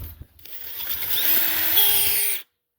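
Power drill boring a 1/2 inch hole while repairing a winch cable, a close, steady high-pitched whine that holds for about two seconds with a slight rise in pitch before cutting off sharply.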